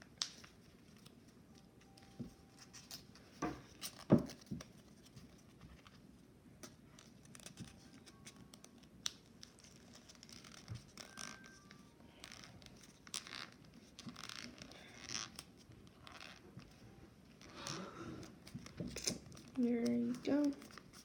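Paper being folded and creased into a paper tristar, with soft rustles, scrapes and crinkles close by and denser crumpling near the end, under intermittent quiet speech.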